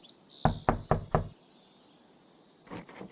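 Four quick, loud knocks land on a wooden door in the video game Claire. After a pause comes a fainter pair of taps, all over a thin high ambient tone.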